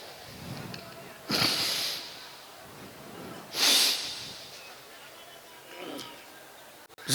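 A voice imitating breathing during dhikr, with soft snore-like rasps: two strong drawn breaths a couple of seconds apart, then a weaker one, close and alone.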